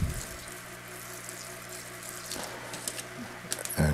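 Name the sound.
water poured onto seedlings in bags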